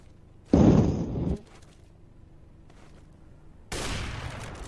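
Two loud bursts of gunfire from the video game CS:GO on the de_dust2 map: one punchy burst about a second long, then near silence, then another sustained volley of shots starting a few seconds later.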